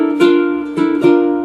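Ukulele picking a higher melody note at the 3rd fret of the E string, three clear plucked notes, each with a bright attack and a ringing sustain, close and solo.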